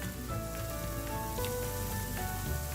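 Chicken sausage browns in a pan with a steady, close sizzle and crackle of frying that stays even throughout, with no talking.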